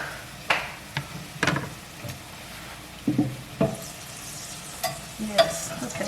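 Hamburger patties fry in a pan with a soft background sizzle, broken by several sharp scrapes and taps of a utensil at uneven intervals, close by and with no talking.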